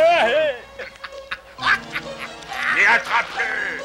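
Ducks quacking nearby in a lively cartoon scene, a run of nasal calls with other voices and bird sounds mixed in.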